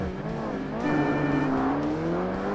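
Game race cars launching at the start of a point-to-point tuner race in Forza Motorsport on Xbox (2005), an all-wheel-drive car pulling away, engines droning and rising in pitch together, loud and steady with no talk.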